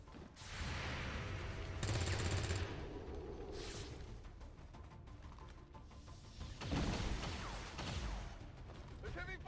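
Heavy ballistic gunfire crackles in the XCOM 2 tactical battle, with bursts of rapid shots and crashing impacts rising and falling over several seconds amid a mix of game noise and indistinct voices.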